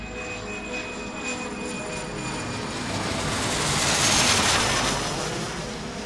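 Southwest Airlines flight 1380 taking off from a New York airport: a loud, continuous jet engine roar that swells to a peak midway and then eases slightly, with no voices.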